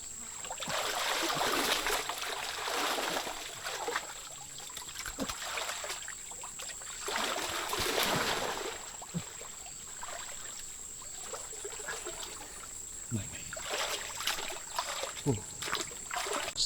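A stream flows near an outdoor harvest site with a steady wash of running water, splashes and trickles coming and going, a faint tone and a few soft knocks over it.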